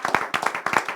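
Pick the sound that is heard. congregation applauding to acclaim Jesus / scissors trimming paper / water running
congregation applauding to acclaim Jesus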